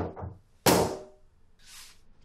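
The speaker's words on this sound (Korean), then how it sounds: "방문을 닫아버립니다" A room door in a film scene slams shut with one loud, sharp thud after a moment of scuffling, followed by a softer rustle.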